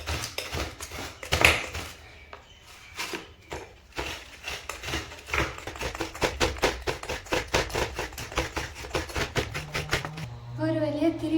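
Coconut is grated on an aruvamanai blade, giving a rapid run of close scraping, rasping strokes in an irregular rhythm, with talking over parts of it and a brief hum near the end.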